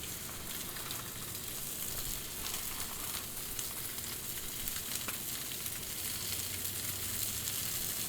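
Shrimp sizzling in oil on a Blackstone griddle, a continuous close, even hiss and crackle with no talk.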